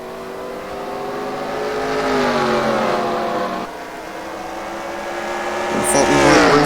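Several NASCAR Racing 2003 stock cars roar close together in a tight pack, engines droning and rising in pitch as they accelerate, with a tire squeal near the end.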